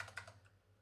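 Quiet typing on a computer keyboard, a short run of soft key clicks that fades away, alone with no talk over a low electrical hum.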